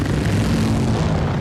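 Dragonfly-style winged helicopters in Dune: Part Two give a loud, steady droning engine roar with low throbbing rotor hum, filling the short stretch without any voices.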